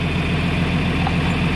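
A farm tractor engine idles close by with a steady, loud low throb and even pulsing, unbroken for the whole stretch and heard alone.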